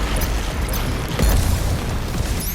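BFG weapon fired in Doom, a deep booming blast that swells briefly near the middle, set within a dense, loud bed of game noise with no talk.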